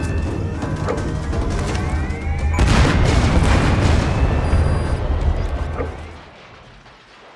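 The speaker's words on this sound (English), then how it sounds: "You destroyed the separator tank. Objectives complete. Though security will be tighter after that explosion." A separator tank explodes in Metal Gear Solid V: The Phantom Pain: ongoing gunfire and game noise give way to one loud, close boom that rumbles and crackles for a few seconds before fading to quiet.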